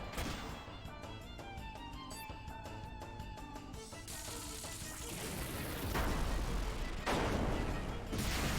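Rocket Punch attack in the Chrono Cross video game: a loud, dense game battle effect with rapid rhythmic pulses and a heavy roar that builds into repeated booming impacts, alone with no talk.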